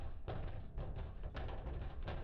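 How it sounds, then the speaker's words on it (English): Something bangs against a closet door in several dull, heavy thuds at an uneven rhythm, muffled and fairly quiet, as if heard from a short distance. "it has now moved to banging at the door"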